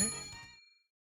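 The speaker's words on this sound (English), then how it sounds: "Crust gingerly rings the bell." A single bell rung gently in the Goddess of Victory Nikke game, a bright ding with a shimmering metallic ring that decays over about half a second into silence.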